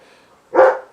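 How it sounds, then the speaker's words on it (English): One short, loud bark from a dog close by, a single burst after a faint background murmur. "my dogs are barking at something"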